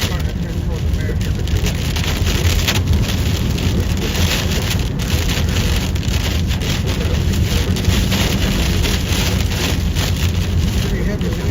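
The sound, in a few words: heavy wind during a storm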